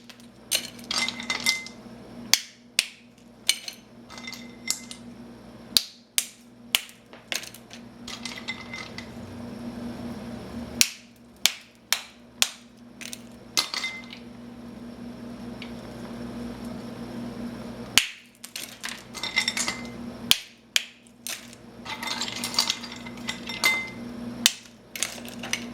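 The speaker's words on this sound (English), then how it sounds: "Now the rest of the ice cubes I'm actually going to crush by hand" Ice cubes crushed by hand for a Brazilian caipirinha cocktail: sharp clinks and cracks come in irregular bursts between quieter scraping and crunching, close and with no talk.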